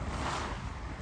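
Small waves wash steadily against a sailboat on the Caribbean sea, a continuous soft hiss and splash mixed with rumbling wind across the microphone, with no distinct breaking wave.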